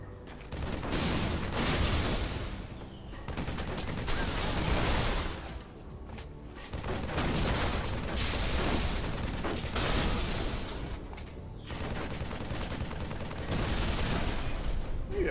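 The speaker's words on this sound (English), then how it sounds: "if I start just blasting the Space Banshee with a regular assault rifle, how does it handle that?" Assault rifle fire in Halo 3 hammers a Space Banshee in long sustained bursts of rapid, loud gunfire. Brief gaps between bursts sound like reloads or pauses, and there is no talking.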